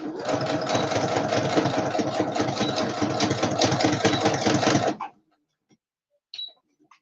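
A sewing machine runs a straight stitch in a steady, rapid, close-up mechanical rattle for about five seconds, then stops abruptly, followed by silence and a faint click.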